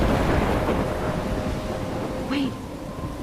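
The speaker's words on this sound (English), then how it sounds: "I'm trapped in a storm?" Stormy weather in the Life is Strange video game: a steady, dense roar of rain and wind with low rumbling fills the whole stretch, loud and continuous, with a brief higher tone near the end.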